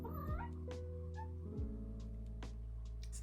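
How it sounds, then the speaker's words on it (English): Walter, a year-old cat, lets out a couple of drawn-out, wavering meows close by over a low steady hum, with no one talking. "I think you're about to meet my cat"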